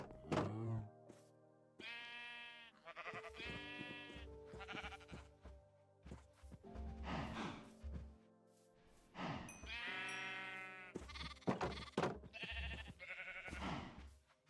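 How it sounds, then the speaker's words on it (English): Several sheep bleat in Minecraft, repeated wavering calls spaced across the span, fairly close and clear, with quiet gaps and soft thuds between them and no talking. "I won't need more than 8 sheep in there"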